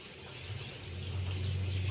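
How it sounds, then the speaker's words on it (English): Water runs from a tap onto a cloth during cleaning of a paraffin kerosene heater, a soft close gush that swells slightly and stays steady. "I'll wet the cloth"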